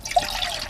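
Water pours into a metal canteen cup for a moment, a short steady trickle and splash close by.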